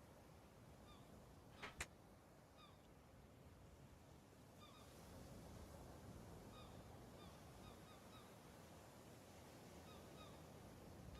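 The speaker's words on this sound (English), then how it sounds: "There's seagulls flying towards us" Faint seagulls calling in the Escape the Pacific sailing game, a few thin distant cries over a low steady wash of sea ambience, with a brief sharper sound near the start.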